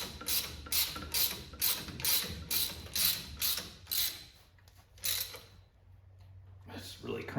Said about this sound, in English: Let's really crank that down so we smash that washer all the way flat